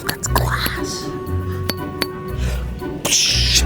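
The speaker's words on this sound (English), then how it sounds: "That's glass." Glass clinking aboard the Margaritaville at Sea cruise ship, a few light chinks and pings heard under close talk and background chatter.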